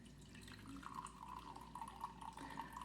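Old cooking wine is poured by hand into a measuring cup held in the air, a faint, steady trickling splash with a gentle rising gurgle, quiet and close.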